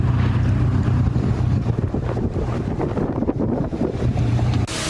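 Hail falling with heavy rain and gusting wind in a street storm, a dense steady roar of buffeting gusts and pattering impacts that stays loud and continuous throughout, with no voices.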